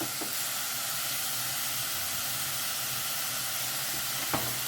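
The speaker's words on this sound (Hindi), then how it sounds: "अच्छे से हमें इसे मिक्स करना है और टमाटर सॉफ्ट होने तक हमें इसे कुक करना है" Tomatoes and onions with added salt sizzle and fry steadily in a pan, a constant close hiss with a couple of brief scraping stir sounds near the end.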